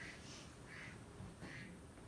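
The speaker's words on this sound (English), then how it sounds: "And the duck has indicated that my time is up." Three short duck quacks sound at a steady, even spacing, ringing out as a talk-timer signal over a faint room hum, with no voices.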